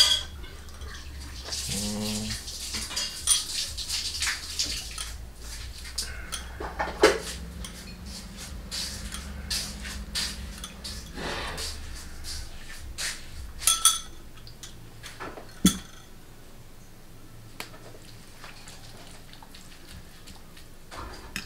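Mie ayam ingredients being stirred together in a bowl, giving soft clinks of utensil against dish and light scraping, with a few sharper taps near the end; no one speaks.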